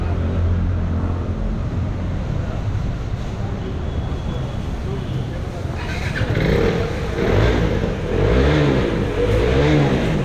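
A KTM motorcycle engine revs at a KTM service center in Kathmandu, a continuous loud rumble that swells in the second half, while someone talks over it.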